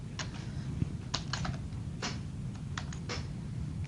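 Rapid typing on a computer keyboard at a network switch console, a string of crisp clicking keystrokes in short bursts, close and fairly quiet, no talking.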